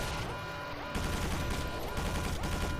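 Rockets and enemy spider missiles firing in a Quake 4 battle, a dense, loud stretch of gunfire and blasts that jumps up around the one-second mark and keeps rattling steadily to the end.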